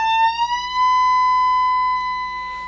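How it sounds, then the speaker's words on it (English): Electric guitar note bent a full step up at the 17th fret, a single sustained, bright tone that rises in pitch and holds steady, loud and clear with no talking. "17th fret. You have a full step bend."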